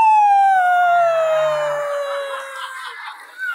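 A hypnotized person at a stage hypnosis show imitates a werewolf with a single loud, drawn-out voiced howl that slides steadily downward in pitch and fades near the end.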